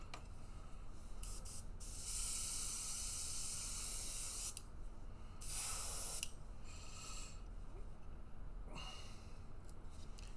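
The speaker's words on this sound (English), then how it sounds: "Blow off what we can." An airbrush blows air over a painted miniature Primaris Redemptor Dreadnought in repeated loud hissing bursts, two long strong blasts and several shorter puffs over a steady background hum.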